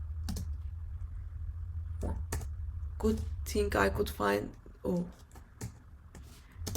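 Clicks of typing on a computer keyboard, scattered sharp keystrokes in short bursts over a low steady hum, with a person talking in the middle.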